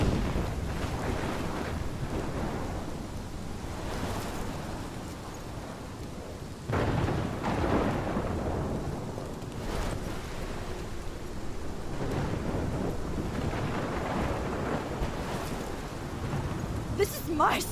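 A thunderstorm from the video game Life is Strange, with continuous rain and wind noise and low rumbles of thunder swelling at intervals, loud and enveloping throughout.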